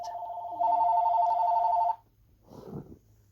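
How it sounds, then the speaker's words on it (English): A landline house phone rings indoors with a single sustained electronic tone lasting over a second, close and clear, followed by a brief soft rustle. "That was the house phone."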